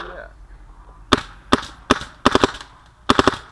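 An airsoft gun, an Axe fitted with a Lurker poppet, fires several sharp cracks, single shots then a quick double and a pair, crisp and close against a quiet room.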